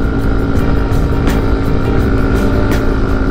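A Honda Freego 125 scooter engine held at full throttle, a loud steady drone with a strong low rumble and a constant whine, heard close with a few faint clicks over it.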